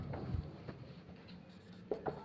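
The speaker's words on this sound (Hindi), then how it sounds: "तो चलिए उसी को लिखते हैं।" Faint scratchy strokes of chalk or pen on a board during a chemistry lesson, a few short marks spaced out with quiet gaps between them.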